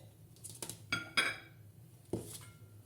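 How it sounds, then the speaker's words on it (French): Three spoonfuls of cinnamon dropped into a pot, giving a few brief, light clinks and taps of a spoon against the pot, spaced apart and fairly faint over quiet background. "nous allons mettre 3 cuillères de cannelle dans le pot"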